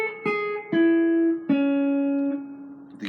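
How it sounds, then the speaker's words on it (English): Guitar picking out gospel chords, with a few clear plucked notes ringing and sustaining one after another, close and clean with no talking. "The beauty is in the the whole arrangement and the sound of the guitar and the chords."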